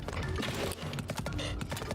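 Horse in Zelda: Tears of the Kingdom with busy, loud clip-clopping hooves mixed into dense game noise and music, close and continuous throughout.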